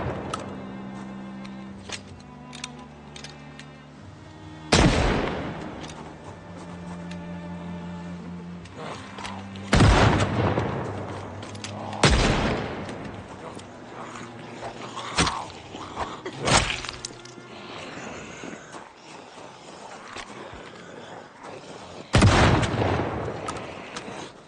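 Revolver shots in the zombie survival game Project Zomboid, a five-shot Magnum: about six sharp, loud reports spaced several seconds apart over a steady low background hum.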